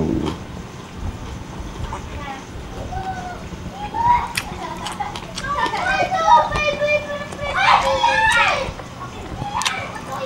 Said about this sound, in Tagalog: ingay ng mga bata sa labas